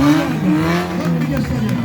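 Stunt driver's car revving on a show track, its engine pitch rising and falling loudly beneath an announcer's voice.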